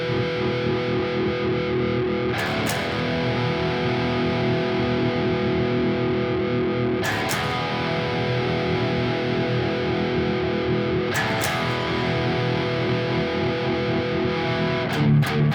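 Distorted electric guitar ringing out a sustained one-finger power chord on the 2nd fret, loud and alone, re-struck about every four seconds.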